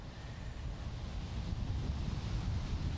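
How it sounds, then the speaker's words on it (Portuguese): Strong gusting wind from a bomb cyclone in Rio de Janeiro, a steady loud roar buffeting the microphone with rumbling low gusts and no clear voices. "por aqui essa ventania que a gente está vendo derrubou árvores em várias partes da cidade"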